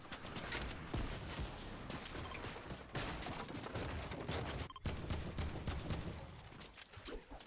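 Gunfire from a squad in the Fortnite video game, rapid bursts of shots crackling fairly faintly and continuously, with a brief gap partway through.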